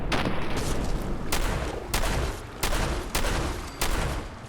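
Gunfire in Fallout 4 while shooting at an enemy: repeated heavy, booming shots at irregular intervals over a constant loud rumbling background.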